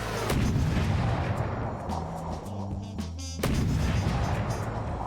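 An advanced cannon in the video game From The Depths fires repeatedly, heavy booming shots rumbling loud and close with a short pause in the middle before the barrage resumes.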